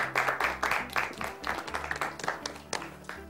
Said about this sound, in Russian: Похлопаем, Герман?